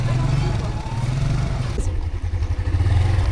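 A motorcycle rides along a road in Benin, its mid-pitched engine rumble and road noise constant and close, punctuated by wind buffeting and a brief clatter partway through, with no clear speech.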